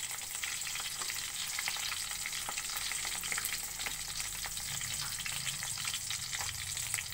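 Dried salted fish (tuyo) sizzles and crackles steadily in a frying pan, a dense close hiss with scattered pops running the whole time and no voices.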